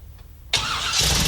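A 1969 Camaro with a brand-new, never-fired engine cranks and catches, bursting from near silence into a loud, steady run that swells slightly louder after a second, alone with no talk.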